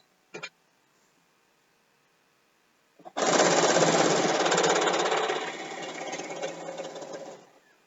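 A sewing machine stitches binding onto a quilt, starting with a brief buzz, then after a pause running in a steady, fast, loud whir for about four seconds before slowing and stopping.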